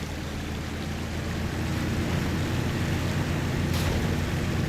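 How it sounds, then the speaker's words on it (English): A truck in SnowRunner pushing through deep water, with a broad rushing, sloshing wash over a low engine drone that swells slightly toward the end. "You're taking it through water that's swamping the engine"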